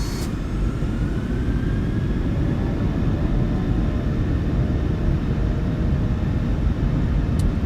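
Twin jet engines of a PMDG Boeing 737-800 in MSFS2024 spool up to takeoff power, a loud continuous roar with a dense rumble and a faint rising whine, steady throughout.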